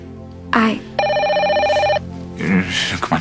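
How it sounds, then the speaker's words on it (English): A telephone bell rings in one steady, loud burst of about a second, with brief speech-like voices just before and after it. "It's just a phone."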